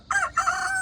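A rooster on a smallholding crows loudly and close by, two strained, rising calls one after the other with the second drawn out until the end.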